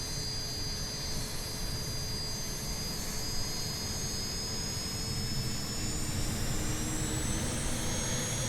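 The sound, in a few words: BAe T1 jet trainer engine in Microsoft Flight Simulator video game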